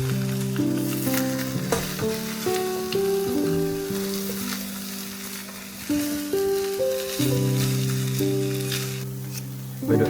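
Fried carrot cake made from radish and eggs sizzles loudly in a pan, with repeated scraping and clanking as portions are flipped, over a steady hiss of frying and some background noise.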